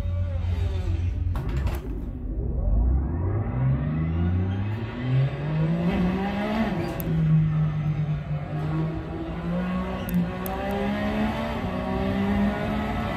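A race car engine in a sim racing game revs up through the gears, its pitch climbing steadily and then holding at a high, constant whine, loud and close with no talk.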